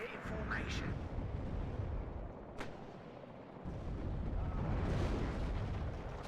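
Chieftain tank firing at a Metis position in the video game WARNO during a 4v4 urban battle, with loud booming gunfire and explosions layered over dense combat noise and a talking voice.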